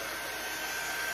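A heat gun or blow dryer blows steadily for heat embossing, a continuous close, even airy whoosh with a faint motor whine and no pauses.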